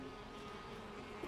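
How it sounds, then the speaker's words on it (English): A swarm of bees in a video game gives off a steady, dense buzzing drone that holds evenly for a moment, moderately loud and with no voices. "Wait, there are loads of bees there."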